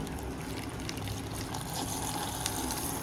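Water for tea boiling in a pot, a steady dense bubbling and hissing rumble held at an even level throughout, close by with no voices.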